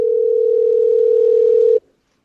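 A steady telephone dial tone hums at a single loud pitch while a call is being placed, holding evenly for under two seconds before stopping suddenly into silence.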